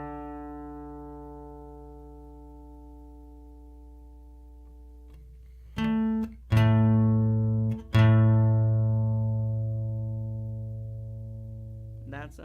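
Sustained plucked guitar notes ring and slowly fade, then several strings are struck again in turn, each tone decaying as the slightly out-of-tune A and E strings are checked.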